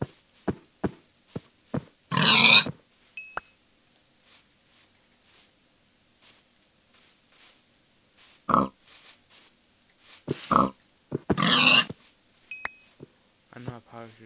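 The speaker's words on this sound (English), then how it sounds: "I know I probably should see some of these pigs" Pigs grunt in a peaceful video game, a few short broadband bursts scattered among quiet stretches, with game beeps and brief clicks between them.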